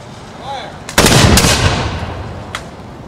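Continental Dragoons reenactors fire a musket volley outdoors, a loud ragged crack of several shots together that rolls off into a long echoing rumble, with one late shot trailing after.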